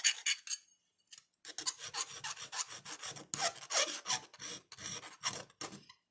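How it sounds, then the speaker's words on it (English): A file rasping inside a hole in a copper scarf pin in short, rapid strokes, close and crisp, after a brief pause near the start, with no talk. "Now I want to sand or file the inside of this just a little bit."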